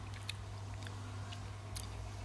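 Crunchy super sour lemon hard candy being chewed close to the microphone, giving irregular crisp crunches over a steady low hum.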